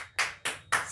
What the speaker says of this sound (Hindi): बच्चों ज़रा ताली बजाना